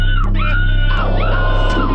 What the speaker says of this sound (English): screaming, screaming, screaming.